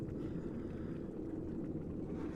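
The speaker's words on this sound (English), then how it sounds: "That's the diesel." A ship's diesel engine in the engine room of a vessel in Shakedown Cruise runs as a steady, loud, low rumbling drone with no breaks.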